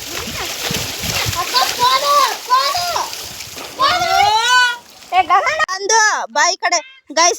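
Children splash about while learning to swim with cans tied on as floats, water slapping and sloshing close by in busy bursts while kids chatter and call out throughout.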